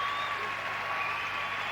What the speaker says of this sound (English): the crowd appreciating that spectacular exercise